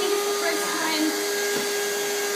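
Vacuum cleaner running steadily nearby, a constant whine with a faint shifting hum as it is pushed along, no speech.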